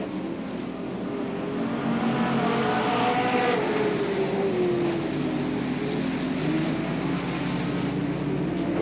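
Race cars at Hales Corners Speedway in 1985 roar past, their engines droning loudly with rising and falling pitch as the pack sweeps around the track, steady and close throughout.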